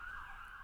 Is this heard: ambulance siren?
yes